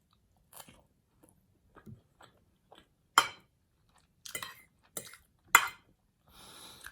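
Roast beef eaten by hand, with scattered close-up bites, wet chews and crunches coming in irregular bursts separated by quiet pauses, with no talking.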